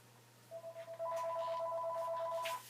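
A telephone rings at home at 3:30 in the morning, an electronic warbling tone repeating in steady pulses over a low steady hum, clear and close.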